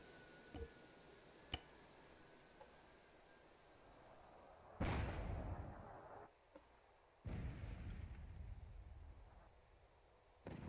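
Artillery fires in ArmA 3 with the IFA3 Lite World War II mod: a few faint clicks, then two heavy booms a couple of seconds apart, each with a rolling tail, and another round starting at the end.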